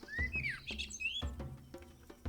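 Bright, rising and falling bird chirps from the Copycat video game, several quick tweets in short bursts over soft low thumps of game sound, fairly close and clear.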